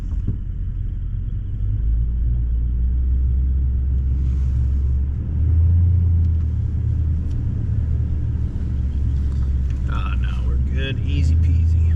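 A vehicle rolls and rumbles down a hill on an East Texas ranch, its engine a steady low drone throughout with a brief swell in loudness midway and faint rattles near the end.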